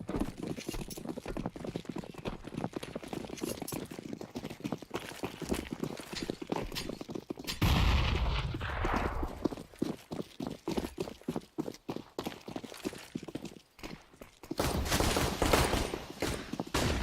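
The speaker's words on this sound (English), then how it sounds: "Look at these shots over on Banana." Rapid bursts of gunfire in a Counter-Strike match on the Banana area of the map, dense clattering shots and footsteps running almost continuously, with a louder blast of fire midway and again near the end.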